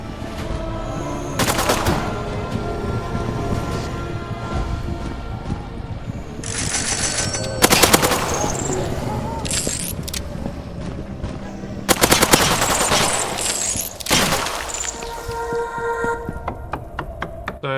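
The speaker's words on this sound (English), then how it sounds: "It's literally just like having a minigun. Well, not a minigun, a machine gun." Machine gun in a zombie video game fires in long rapid bursts, loud and close, separated by brief pauses with game sounds between.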